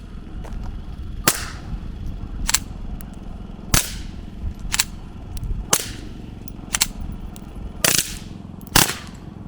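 Gunfire from a brand-new, never-before-shot gun fed by a 16-round magazine: about eight sharp, separate shots spaced irregularly a second or so apart, each a loud crack over a low steady rumble, with no talking.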